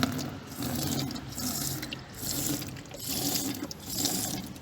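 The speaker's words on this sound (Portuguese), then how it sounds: "vou colocar produto no balde" Cleaning liquid pours into a clean bucket in a steady, splashy stream that swells and eases in waves, close up, with no voices.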